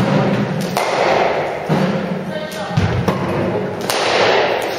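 Cricket bat striking a ball during a batting practice session, several sharp wooden thuds spaced a second or so apart over steady background noise, with people talking in between.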